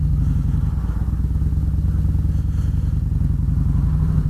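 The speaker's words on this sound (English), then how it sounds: "This big old beastie of a bike can get up from 0 to 60 in about 4 seconds" Harley-Davidson motorcycle with a Stage 4 upgrade, engine pulling hard under acceleration with a loud, deep, rapid lumpy thrum that stays steady and close throughout, no voices.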